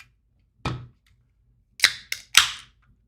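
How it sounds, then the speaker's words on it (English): A bottle popped open, a sharp pop followed by three quick louder bursts of fizz and hiss close by, with no talking. "Popping a bottle."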